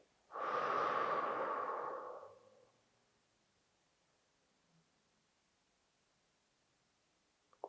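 A single long breath during a sophrology stress-relief session, a close, airy exhale of about two seconds that fades to near silence afterward.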